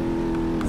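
A custom Hopper vehicle in BeamNG.drive revs hard with its tires spinning in mud, a steady loud engine drone with a strong low hum held for under a second.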